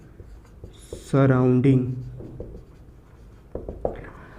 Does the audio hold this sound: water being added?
no